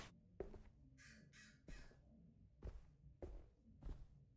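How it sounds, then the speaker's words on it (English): A crow caws in the video game Backbone, two raspy calls in a row heard faintly against a quiet room with several dull thumps and footstep-like knocks. "Bird."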